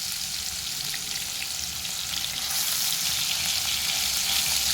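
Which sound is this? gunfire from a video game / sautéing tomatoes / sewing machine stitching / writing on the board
sautéing tomatoes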